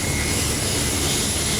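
A US Air Force hurricane hunter plane's engines roar steadily at close range, a dense, loud, unbroken drone with a thin high whine on top.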